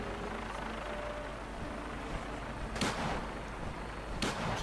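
Gunfire at a vertibird in Fallout 4 comes as two sharp, loud bursts over a constant low rumble of engine and rotor noise.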